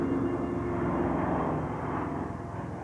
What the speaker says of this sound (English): For the Berliners, the roar of the planes was music from heaven.